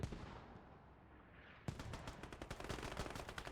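Mortar and gun fire in a video game battle: muffled rumble first, then a sharp onset of rapid, repeated loud bursts and impacts continuing to the end.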